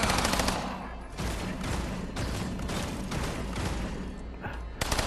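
Rapid submachine gun fire in the System Shock (2024) game, a loud, dense burst of automatic shots that continues almost without a break throughout, with a short pause near the end before firing resumes.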